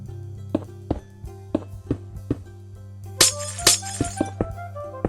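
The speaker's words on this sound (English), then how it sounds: "and place some glass over at the end." Glass blocks are placed one after another in Minecraft, each landing as a short clinking tap in a steady rhythm over soft background music, with a brighter, crisper glassy crash midway through.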